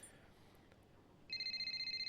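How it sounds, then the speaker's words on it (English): A phone rings in F1 23, a faint electronic trill starting after a quiet pause and repeating in quick even pulses. "here's the phone call."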